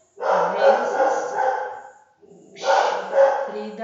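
A pet dog named Frida barks in a burst of loud, close barks, pauses briefly, then barks again.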